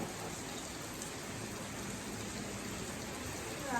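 Rain falls during an outdoor religious discourse gathering, a faint, even hiss of drops that stays constant throughout with no voices over it.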